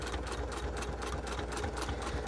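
A sewing machine stitches fabric with a steady, close, continuous mechanical whir that holds an even rhythm throughout, with no talking.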